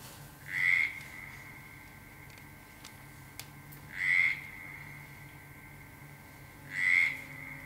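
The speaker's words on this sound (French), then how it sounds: "La grenouille coasse un peu comme Josette" A frog croaks three times, each croak short and buzzy, spaced evenly about three seconds apart against a quiet, faintly humming background.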